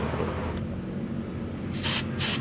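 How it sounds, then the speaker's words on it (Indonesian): Compressed air from a compressor blasts through the jet of a PE28 motorcycle carburetor in two short, loud hissing bursts after a stretch of quieter background noise. "Kita semprot dulu pakai kompresor ya lur, semprot."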